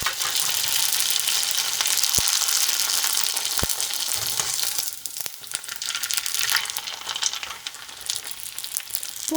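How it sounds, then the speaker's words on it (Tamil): Vadagam, sun-dried rice crisps, deep-frying in hot oil: a loud, dense close crackle and hiss that eases a little midway, with a few sharp clicks. "இப்போ வடகத்தை பொரிச்சு எடுத்துடலாம்."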